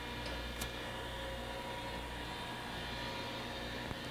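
An 8 x 18 inch ACER Supra Series three-axis automatic surface grinder runs its table and grinding wheel, giving a steady broadband machine hum and whine with a couple of faint ticks.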